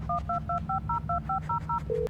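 Phone in the video game Blair Witch dialing a call, a quick run of about nine crisp touch-tone beeps followed by a lower ringback tone, over a low steady background hum.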